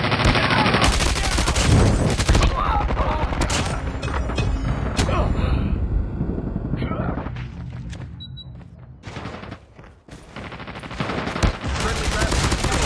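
Dense bursts of automatic gunfire and booming impacts from a Call of Duty Mobile match run almost continuously, loud and close, with brief lulls and game voice callouts over them.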